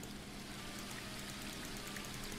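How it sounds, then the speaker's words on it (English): Steady rushing and splashing of a garden waterfall in the fantasy adventure game The Book of Unwritten Tales 2, a constant, even wash of falling water with no voices. "The waterfall and I have been neighbours for so long that I don't really hear it anymore."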